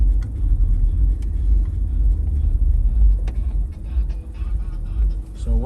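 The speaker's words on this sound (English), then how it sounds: "Pretty much a lot of traffic." Steady low rumble of road traffic on a busy avenue in Hialeah, cars passing nearby and continuous engine noise, loud and close throughout.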